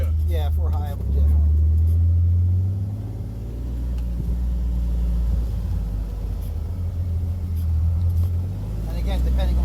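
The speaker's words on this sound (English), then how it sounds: "Coming up that little side-by-side, but you need four-wheel drive, I would hope." Side-by-side utility vehicle in four-high four-wheel drive climbing a hill on a trail, its engine a steady low rumble that swells and eases as it pulls upward, with people talking over the drone throughout.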